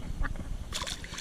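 Ducks near the water let out a short burst of quacking, brief and moderately close over a steady outdoor background with low rumble.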